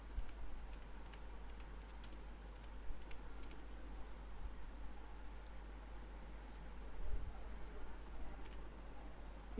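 Light typing on a computer keyboard, soft scattered key clicks over a steady low hum, fairly quiet and steady, with no voice heard.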